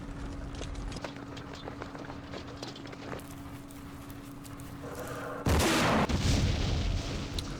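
A recoilless rifle fires in the Vietnam war game Campaign Series Vietnam, a loud broadband blast that hits suddenly and then stays heavy for a couple of seconds, after a stretch of quieter battlefield ambience with a steady hum underneath.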